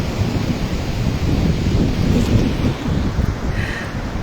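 Surf rolls in on the beach at Sidi Kaouki, Morocco: a steady, broad wash of breaking sea waves with wind rumble, swelling slightly in the middle and never pausing, with no voices.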